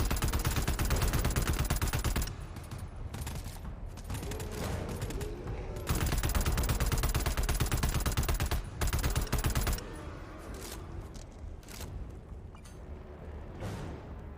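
Dense, sustained automatic gunfire from the co-op shooter GTFO, loud and continuous for several seconds, then breaking into scattered shots and quieter combat noise.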